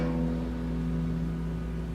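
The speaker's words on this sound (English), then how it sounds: "you're going to play the low E string" A single open low E guitar string rings, one sustained deep note fading slowly, quiet and alone.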